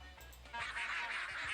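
Ducks in Red Dead Redemption 2 let out a short burst of loud, raspy quacking, close by after a brief, quieter lead-in.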